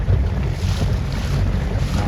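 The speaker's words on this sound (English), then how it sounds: "that wind is going to knock him down a little" Loud, blustery wind buffeting the microphone over open water at a youth Sabot sailing race, a steady roar with heavy low rumble and a faint wash of waves beneath.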